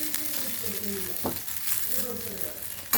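Potatoes fry in a pan with a steady, soft sizzle running under faint background talk, broken by one brief clatter partway through.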